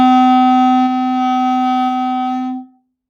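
A single sustained C note on a half clarinet, also called a baby clarinet: one steady, clear reedy tone held for about two and a half seconds before fading out, played alone.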